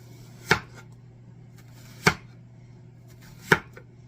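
Knife slicing steak on a cutting board for sheet pan fajitas, three sharp, close chops evenly spaced about a second and a half apart over a quiet background hum.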